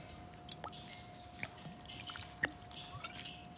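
Light soy sauce going into a red-oil dipping sauce of chili, garlic, sesame and salt, heard as a few faint, sparse drips and splashes close by in quiet surroundings.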